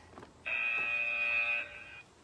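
A workout interval timer buzzer sounds one steady, loud electronic tone lasting about a second, standing out against a quiet room.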